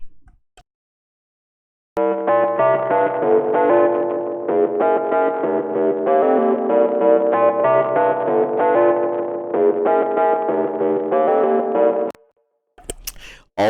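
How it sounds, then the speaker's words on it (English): A buzzy square-wave synth bass plays a continuous run of distinct notes for about ten seconds, loud and dry, starting and stopping abruptly with silence before and a few short noises after. "this kind of weird square kind of bass"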